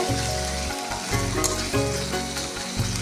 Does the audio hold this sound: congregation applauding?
no